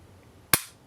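A single sharp dry-fire click from the trigger of a Grand Power Q100 pistol, one crisp close snap that rises out of quiet room tone and fades quickly.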